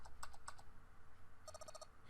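Short bursts of computer keyboard typing in the video game 9 Hours 9 Persons 9 Doors, quiet clicks in two quick clusters with a pause between them.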